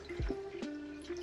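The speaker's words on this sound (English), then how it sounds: "I'm gonna use a big spoon and very gently mix this together" A big spoon gently stirs dry pizza dough ingredients into about two cups of 110-degree water, giving soft wet sloshing with a few light knocks against the bowl over a steady background hum, and no one talking.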